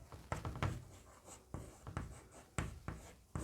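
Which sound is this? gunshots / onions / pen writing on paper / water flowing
pen writing on paper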